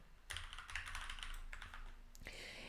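Quiet, close clatter of fingers typing on a computer keyboard, a busy run of keystrokes with short pauses between bursts.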